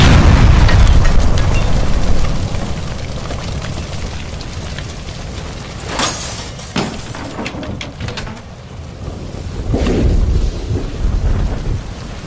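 A gas line explosion in the LA Noire video game: a loud rumbling boom with sharp cracks, followed by sustained roaring, crackling debris and a second swell of rumble.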